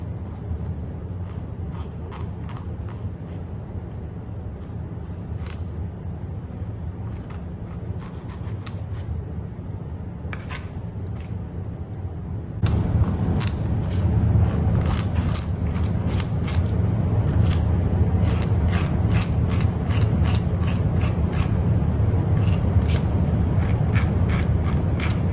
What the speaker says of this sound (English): You're kind of pulling away as you're cutting to separate the meat from the bone.